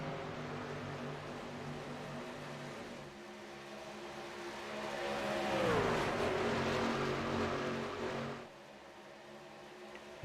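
Racing trucks in a video game roar around an oval track in a steady engine drone, with one truck's pitch sweeping as it passes and rising in volume, then dropping back; no voices.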